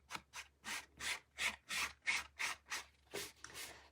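An old sponge rubs gold fleck off a surface in about eleven regular, close scratchy strokes, each a soft rasping swish with short pauses between.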